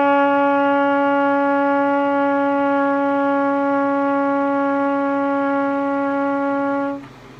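A trumpet sustains one D sharp (E flat) note, fingered two and three, steady and close for about seven seconds before stopping, with no voices over it.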